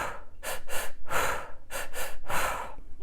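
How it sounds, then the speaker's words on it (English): A person doing fast energizing breathing: paired quick sharp inhales followed by a brisk exhale, repeated in a tight rhythm, close and clear with no talking. "So I'll take 2 quick inhales and then a quick exhale."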